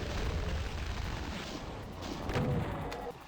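The BFG fires in the Doom map Sunlust MAP29, heavy booming blasts and explosions rolling over one another in a dense, loud wash of combat noise.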